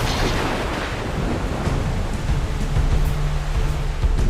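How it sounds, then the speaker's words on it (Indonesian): A strengthening storm fills the air with a steady, heavy roar of thunder and wind that never lets up, with no gaps of quiet. "Ketika badai semakin kuat"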